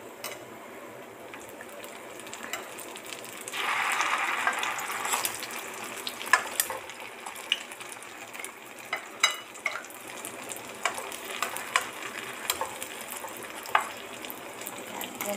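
Food frying in a pan, a steady soft sizzle with a louder hissing surge early on and scattered clicks and clinks of stirring throughout, close and without speech.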